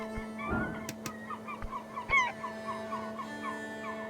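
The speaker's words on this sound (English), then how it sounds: "The gull's back." A gull calls in the video game Esoteric Ebb, giving a run of short, harsh squawks at close range over a steady low background hum.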